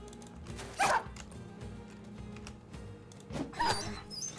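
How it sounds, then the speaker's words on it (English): War dog in a video game taking a shot, with two short sharp yelping bursts about three seconds apart over a low steady game background hum. "One-shotting a war dog."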